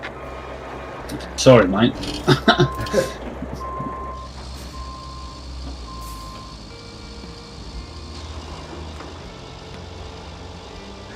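A lorry with a strong engine idles and maneuvers nearby while steady reversing beeps pulse repeatedly, with a brief hiss, someone speaking briefly and other voices around.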